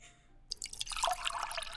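Water pouring and splashing in, starting abruptly after a quiet moment, a loud close stream with dripping, bubbly texture that keeps going steadily to the end.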